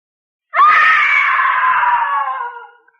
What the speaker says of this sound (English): A woman screamed.